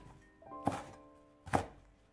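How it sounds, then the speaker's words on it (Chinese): Two separate knife chops on a cutting board as small red chili peppers are sliced diagonally into pieces, each a sharp close thunk with a pause between them. "小红椒斜刀给它切成片"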